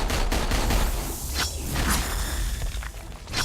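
Deadpool fires his pistols in the Marvel Heroes online game, a busy run of rapid gunshots with whooshing combat effects layered over continuous game action.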